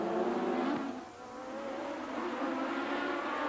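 Williams Honda Formula One race car engine at the 1987 Spanish Grand Prix, a loud high-pitched whine that dips as it passes, then climbs again in rising revs, heard alone without talk.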